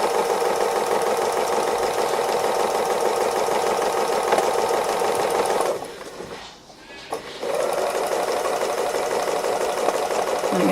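A domestic sewing machine runs steadily in free-motion stitching around an owl's head on an autumn owl wall hanging, a fast continuous whir that pauses briefly midway before resuming.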